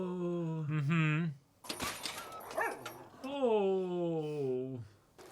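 A dog in the Spy x Family anime gives drawn-out, whining barks and yelps, loud and close, broken by a short burst of door-like clatter and mixed with voices talking.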